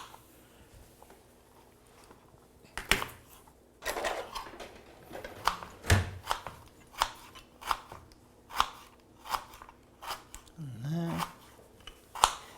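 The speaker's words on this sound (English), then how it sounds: "I'm going to chop up this" Knife chopping vegetables on a board for a home stir fry, a series of sharp evenly spaced thuds growing more regular, with a brief clatter and faint background voices.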